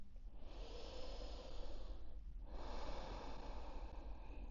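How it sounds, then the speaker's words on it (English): A deep breath taken during a slow yoga flow, one long inhale-exhale with a brief pause in the middle, close and steady over a soft background hiss. "One more breath here."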